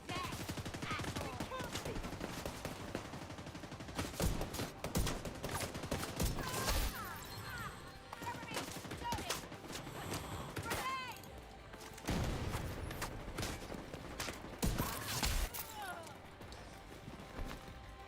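Rapid bursts of gunfire in the shooter game The Division 2 during a Reanimated global event, with repeated sharp volleys and clattering shots running densely over a busy game mix.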